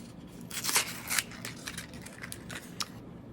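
A small white paper envelope is torn open up close, a run of soft crackling rips and crinkles with a few sharper snaps, fairly quiet and with no talking.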